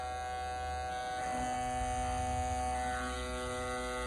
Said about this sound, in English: So put these in the cleaning machine.